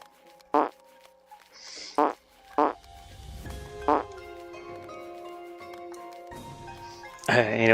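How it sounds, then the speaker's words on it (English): A cartoon dog character farting in a 2D medieval video game, several short punchy puffs spaced apart, then a longer buzzing stretch alongside game music. "he's got the turbo farts. He goes fast when you fart"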